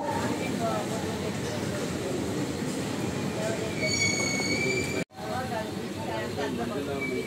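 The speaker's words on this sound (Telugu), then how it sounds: "గోదావరి స్టేషన్ దాటిపోతుందండి మన ట్రైను" Heard from on board, the Kakinada Express rumbles past Godavari station with steady wheel noise and a thin squeal of wheels, broken by one brief sharp dropout near the end.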